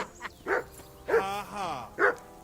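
A video game dog named Henry barks three times in short, spaced bursts, with a drawn-out whimpering whine between them and a voice talking around the barks.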